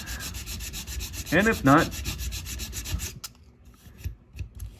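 Sandpaper rubs back and forth over a small 3D printed part for a 1/64 scale KT Pacer feed trailer model, a close, steady scratchy rasp that continues under brief speech.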